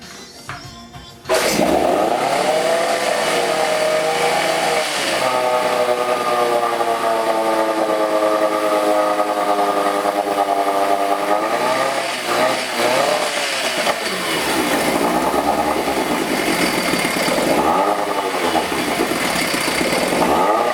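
An old, newly repaired outboard boat motor sputters to life after a pull and runs steadily for about twenty seconds, a loud, buzzing drone that dips and rises as the throttle is adjusted.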